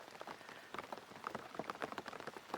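Rain falls outside a small café, a steady patter of scattered drops tapping on surfaces, close and fairly soft, with no voices over it.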